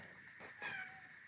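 A pet kitten gives a single faint, short meow indoors near a house's front doors, with quiet room hiss around it.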